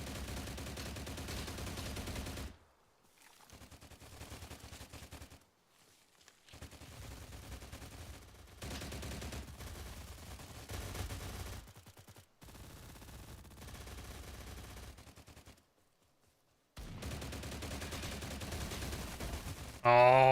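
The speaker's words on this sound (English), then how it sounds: "somebody else had to come out and shoot" Bursts of automatic gunfire in the video game STALCRAFT, loud repeated volleys broken by short silent gaps, with a few sharper single shots near the end.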